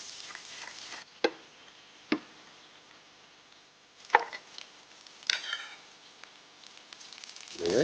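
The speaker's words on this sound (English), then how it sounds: "We need to chop up some garlic." Knife chopping garlic on a board in a kitchen, giving a handful of separate crisp taps spaced a second or so apart, close and moderately quiet, with no talk.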